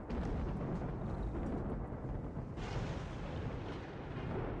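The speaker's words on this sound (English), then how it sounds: "Okay, we got a flash storm." Thunder from a flash storm in RimWorld: a continuous loud, deep rumbling roar across the whole stretch, with a sharper crack-like surge partway through and no voices.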